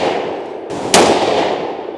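A single sharp, loud gunshot from a Tikka T3x 22-250 rifle with a 26-inch, 1:8 twist barrel, fired at close range outdoors over a steady windy background, with a brief ringing tail and no talking.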